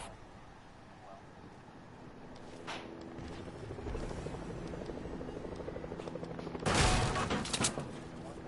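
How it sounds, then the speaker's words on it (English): A helicopter arrives in a video game, its rotor drone building steadily beneath busy game noise, with a louder swell near the end and some distant gunfire-like bursts around it. "Teammate has arrived in a chopper."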